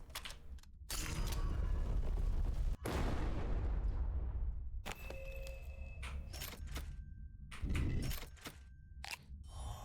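Gunfire in the indie video game Death Candle bursts out in loud, sustained blasts with booming, rumbling decay, broken by brief pauses and a few sharp mechanical clicks, with no talking.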